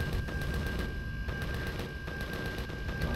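Rapid gunfire in the sci-fi game Empyrion during a ground assault, a steady stream of evenly spaced shots with a constant tonal hum running underneath, loud and unbroken throughout.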